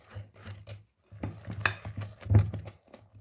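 Cake batter with plain flour and baking powder being mixed in a bowl, soft scraping and tapping strokes in an irregular rhythm, close and fairly quiet with brief pauses.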